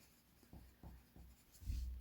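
Pen writing words on a piece of paper: a few quiet, short scratchy strokes in an irregular rhythm, recorded close, with no talking.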